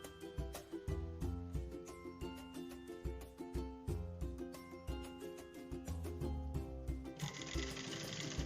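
A sewing machine stitches a fabric waistband in a fast, steady mechanical rhythm with repeating pulses. It runs alone without talk, and a brighter whir comes in near the end.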